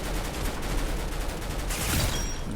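Rapid bursts of video game gunfire from a custom gun build, dense repeated shots in a sustained fusillade with harsh recoil, loud and close, with no talking.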